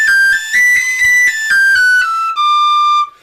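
Tin whistle playing a high C sharp with a cross fingering, a bright pure tone sounded as a run of short tongued notes that ends in one long held note, solo and close.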